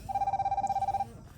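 An incoming call on a Huafit S12 Plus smartwatch sets off a single short ringtone burst, a rapid pulsing trill that lasts about a second and then stops.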